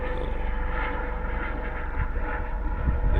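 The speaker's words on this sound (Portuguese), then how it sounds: "helicópterozinho passando" Small helicopter passing over a high rocky peak, a steady loud engine and rotor drone that holds without break throughout, no voices.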